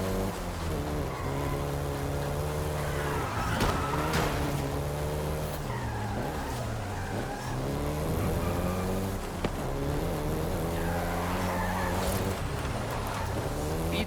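A Volkswagen Golf GTI in Forza Horizon 5 drives steadily with a continuous engine drone that rises and falls through gear changes, with occasional tire squeal and no voices.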